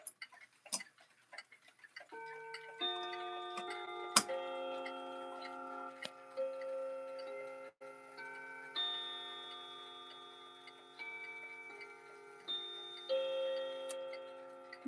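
New Haven clocks tick steadily and fairly quietly, while ringing chime tones layer over the ticking and slowly fade between fresh strikes.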